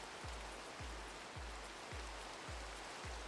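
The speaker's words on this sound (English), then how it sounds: "Get this rain away" Steady broadband rain hiss from a Minecraft world fills the stretch without a break, with a low thump repeating roughly every half second underneath.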